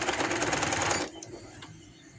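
A sewing machine stitches lace onto the hem of a chaak daman shirt, running in a fast steady rattle for about a second, then stopping, leaving quiet room tone with faint handling clicks.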